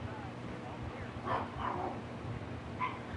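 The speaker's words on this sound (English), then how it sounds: "dogs are barking at nothing again" A few short dog barks and yips sound from a distance, spaced apart and faint beneath a steady low background rumble.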